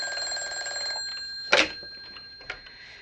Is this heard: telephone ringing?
yes